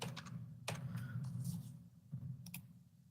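Someone types on a slightly unfamiliar computer keyboard, a quick run of sharp clicks and taps in irregular bursts, close and quiet over a low background hum.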